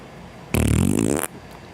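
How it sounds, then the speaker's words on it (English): A loud, close fart sound effect is played on a late-night chat stream, a single buzzy blast lasting under a second over a quiet background. "The first fart sound officially of the night."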